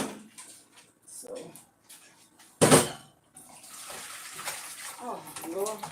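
Hot cooked lasagna pasta is dumped into a small kitchen sink and rinsed under cold water. A sudden loud splashing gush is followed by steady running water, and someone talks intermittently around it.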